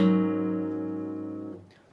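Electric guitar picking a sustained chord from a song intro, then sliding back down to its original fret position; ringing harmonics decay steadily for about a second and a half before cutting off, played alone.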